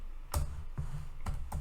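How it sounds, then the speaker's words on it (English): Keys on a computer keyboard being struck in quick bursts, a few sharp clicks clustered together with short gaps, close and moderately loud. "typing too fast"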